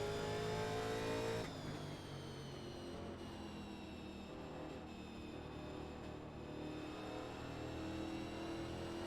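Onboard engine of a 1987 Winston Cup stock car at Richmond, loud and close, with a sudden throttle lift early on, then a steady lower drone while braking and a gradual rise as throttle comes back in.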